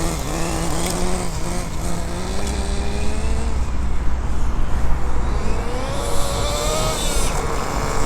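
A Peugeot moped idling with a steady, buzzy two-stroke drone held close and loud throughout, its pitch wavering slightly up and down as the idle hunts.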